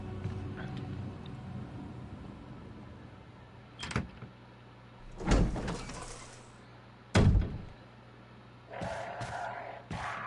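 A door opens and bangs shut in the Resident Evil video game, with several sharp thuds and slams over a quiet, low ambient hum, separated by pauses.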